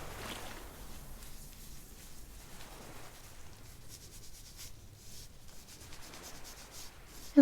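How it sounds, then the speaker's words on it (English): Soft, steady rubbing of an alcohol-soaked wipe on the skin around a belly button, a close, quiet swishing friction that continues evenly and ends with a brief louder bump. "I'm just going to rub here above your belly button and below."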